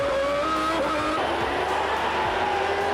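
1991 Formula One cars pulling away from the start line, several high-revving engines screaming and shifting up together in a loud, dense roar with rising pitch sweeps.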